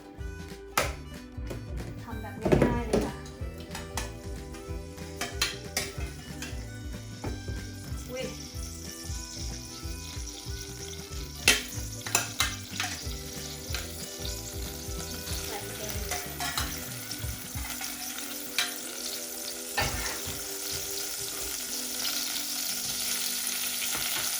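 Cod fish fries in a pot on the stove with a steady crackling sizzle, broken by occasional sharp clinks and stirring noises of a utensil against the pot.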